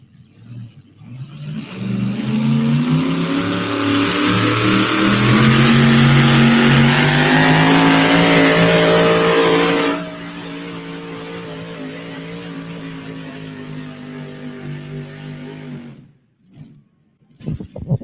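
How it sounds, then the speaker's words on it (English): The Wicked Wagon pulling truck from Norris, Montana roars down the track at a truck pull, a loud, sustained engine bellow that climbs in pitch, drops abruptly to a lower steady drone, then cuts off near the end. "Well, we'll let this truck pull."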